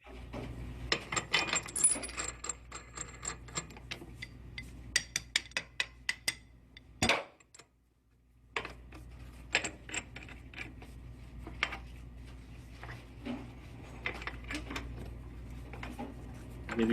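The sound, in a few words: hand tightening with a regular wrench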